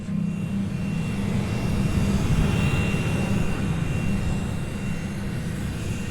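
A private chartered jet reserved for government use gives off a steady, loud, broadband cabin roar, droning evenly throughout with no voices.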